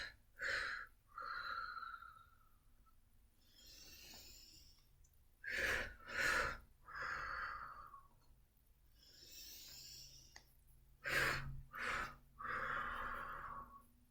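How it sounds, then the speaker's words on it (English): A person breathes heavily during a full-body strength workout, with loud sharp exhales and gasping inhales in bursts that alternate with quieter breaths, close and with no talk. "Do the breathing with me."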